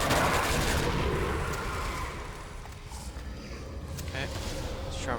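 Gunfire in Call of Duty World at War's Nazi Zombies mode: a sustained clattering burst of shots, loudest at the start and continuing as a dense rattle with some booming reports, under a background of game noise.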